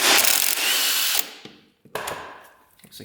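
A hand ratchet with a 10mm socket works on the drain bolt of a Honda TRX 700cc ATV, giving a rapid clicking run followed by a few sharp metallic clicks and knocks with short pauses.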